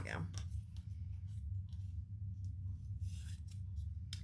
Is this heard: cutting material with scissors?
yes